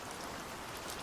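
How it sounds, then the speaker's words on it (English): Steady, even rain patter hisses softly and continuously, a faint wash of falling drops with no voices over it. "Why don't we drop some rain?"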